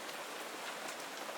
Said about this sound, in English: It is a torrential downpour.